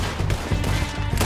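Gunfire in Red Dead Redemption 2, a burst of several sharp, loud shots in quick irregular succession, close and punchy, with no talking over them.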